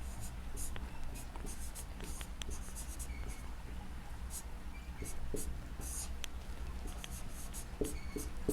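Chalk or marker scratches across a classroom board during a Hindi grammar lesson, in short repeated strokes and taps, fairly quiet, with a low room hum and occasional soft sounds of the teacher underneath.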